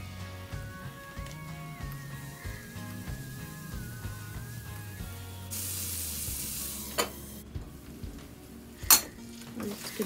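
Curry in a pan being mixed with salt and turmeric, the spoon scraping and clinking against the metal over a low sizzle, with a few sharper knocks near the end.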